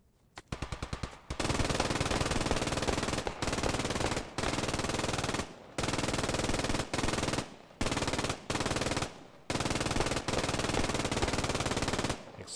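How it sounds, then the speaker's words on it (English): Long sustained bursts of MG42 machine gun fire in the WWII shooter Post Scriptum, loud and close, rattling in extended strings separated by brief pauses, with no talk. "Exchanging fire, the MG42 was cutting through those buildings."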